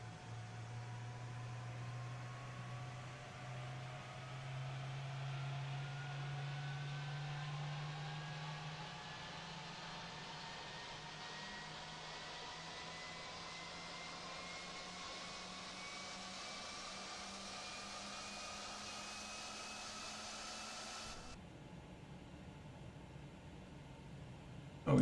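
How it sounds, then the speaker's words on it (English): The first jet engine of an airliner spooling up during start in Microsoft Flight Simulator 2020: a steady, rising whine over a low rumble climbs gradually for about twenty seconds, then cuts off abruptly to a softer hum. "Jump outside to give you a look at that first engine spinning up."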